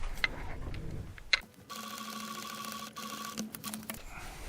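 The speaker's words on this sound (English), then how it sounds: "I'll pin the second one on and sew that" A sewing machine runs in a steady stitching drone for a couple of seconds while a pinned piece is sewn onto an Easter patchwork chicken, preceded by a few clicks and handling noises, close and fairly quiet.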